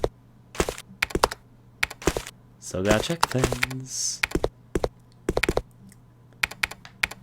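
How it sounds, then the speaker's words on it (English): Keyboard tapping in the video game Resident Evil: Code Veronica X, crisp clustered clicks and clacks in irregular bursts close by, with someone briefly talking over the middle of the typing. "I'm assuming that this tapping on the keyboard means there's someone here on the computer."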